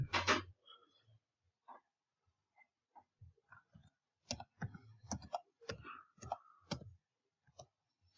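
Keys tapped on a computer keyboard to enter a root password, a sparse run of crisp separate clicks with gaps, then a quicker burst of keystrokes, faint and close with no talk.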